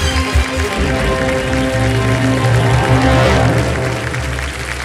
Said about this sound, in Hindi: तालियां बजती रहें इन लोगों के लिए।